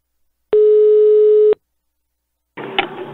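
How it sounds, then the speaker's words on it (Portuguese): A telephone line tone sounds while a call is being placed: one steady, loud beep lasts about a second and then stops, and after a short silence a voice begins speaking. "Eu vou ligar agora pra Cristiane"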